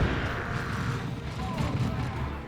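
A grenade explosion in Dawn of War 2, a heavy low rumbling blast layered with battle noise, sustained and dense throughout a short stretch of combat.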